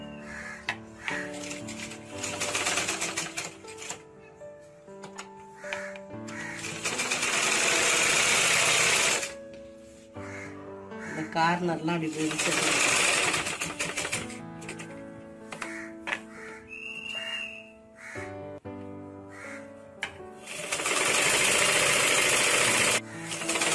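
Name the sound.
sewing machine stitching a blouse piece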